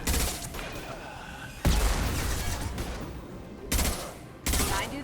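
Gunfire in the Mass Effect 2 video game: sharp bursts of shots and booming blasts come in clusters at close range, some loud and sudden, with a quieter rumble of combat in between.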